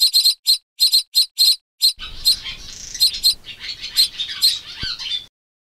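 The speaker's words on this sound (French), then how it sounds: "Des oiseaux" Bright, high bird chirps come in a quick run of separate repeated bursts, then turn into a busier, overlapping chorus of calls over a soft background hiss, ending abruptly.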